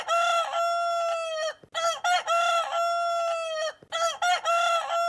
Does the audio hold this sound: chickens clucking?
yes